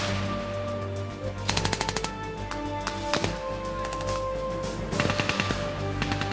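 Bursts of rapid automatic gunfire crackle in combat during an enemy mortar attack on Army Ranger School students in an ambush, several short volleys at moderate distance over a steady low rumble, with no speech.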